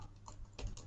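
Someone types code on a computer keyboard in a short run of several crisp keystrokes, close and fairly quiet, with no voice over them.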